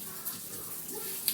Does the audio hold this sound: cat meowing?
no